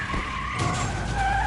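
A car skidding during a chase in the video game The Wolf Among Us, a loud continuous tire screech over engine roar that holds steady for the short stretch, with no talking.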